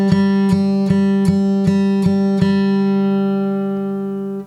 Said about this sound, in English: here's that sound, that same G string with this attack on it